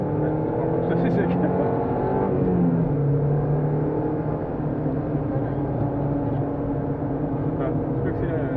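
A Peugeot 206 S16 race car engine drones and revs on a track, loud and steady from the cockpit, with a voice speaking over the engine.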